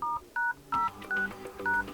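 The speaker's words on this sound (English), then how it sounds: "to enter any code, you need to open your phone dialer" Keypad tones on an LG K62+ phone dialer as a secret code is entered: five short, clean two-note beeps in an uneven rhythm, close and clear, with no talking.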